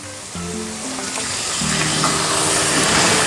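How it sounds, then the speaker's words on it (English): Meat drops into a hot pan with ginger and garlic for Egyptian bamya, raising a steady, broad sizzle that grows slightly louder and continues without pause over a few seconds, close up, with no voices. "Okay, in goes our meat."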